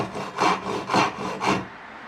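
A Japanese rip-cut saw cuts along the grain of a wooden tenon in four even, rasping strokes about half a second apart, close and clear with no talking.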